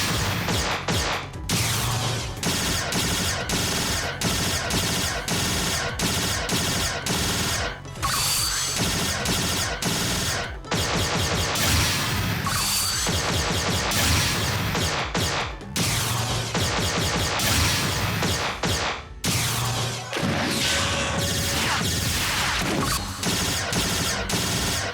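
Photon arts attacks in Phantasy Star Online 2 fire off in rapid succession, a loud, dense barrage of sharp metallic strikes and crashing bursts with brief gaps between combos, over a steady game backdrop.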